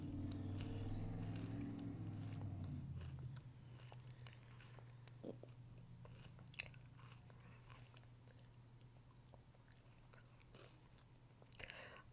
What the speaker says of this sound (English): Pardon me for chewing, but I need a little pick-me-up.